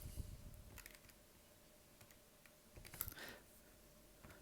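Someone types on a calculator keypad while working out a geometric series sum. There are faint, scattered key presses, a few isolated taps and a short cluster near the end, over a quiet background.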